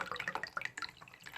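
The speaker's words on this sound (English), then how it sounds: "This will let all the water drain out of the unit into the bowl." Water from an opened valve on a Sentinel Eliminator TotalGuard filter drips and trickles into a bowl in quick, irregular drops, quiet and close.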